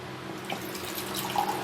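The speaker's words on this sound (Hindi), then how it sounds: "पानी ले लेते हैं हम इसमें।" Water running into gulab jamun batter in a home kitchen, a steady broadband trickle with light splashes throughout, close and moderately loud, no talking.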